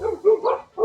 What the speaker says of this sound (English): Oh, now I need to debark some dogs.